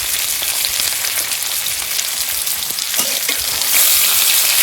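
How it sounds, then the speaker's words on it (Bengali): Amla (Indian gooseberry) with turmeric frying in hot oil, a steady, close, loud sizzle with crackling that swells slightly louder near the end, no voices. "এবার আমলকিটা আমি ছেড়ে দিচ্ছি তেলে।"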